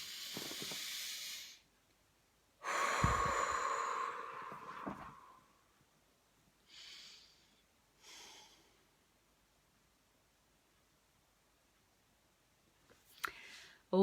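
A calm deep breath during an EFT tapping session, a long breathy inhale followed by a slow exhale, close and soft, with quieter breaths afterward.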